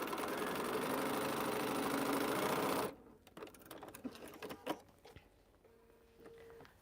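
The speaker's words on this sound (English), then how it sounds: "So now I'm just sewing a 1/4 inch seam." A sewing machine running a quarter-inch seam, a dense steady whir for about three seconds before it stops, then only small handling clicks and rustles.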